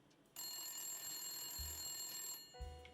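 A telephone rings in the video game Blacksad: Under the Skin, giving a steady, bright electronic trill that holds for about two seconds before a short tone and a soft thump follow.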